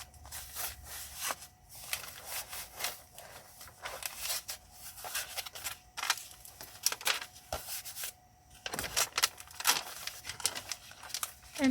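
Contact paper used as masking tape on a watercolor page is peeled and pressed down, giving a steady run of close crinkling, tearing and rubbing sounds with no voices.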